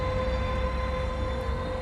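A GO Transit train idles at a station with a steady, loud mechanical rumble and a sustained tonal whine, continuous and close throughout.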